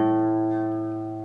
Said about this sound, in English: We're going to play the A string open